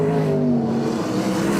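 Race cars lapping the Riverside track at an Invercargill winged-car meeting, engines droning loud and steady at close range with a slight pitch shift as they pass.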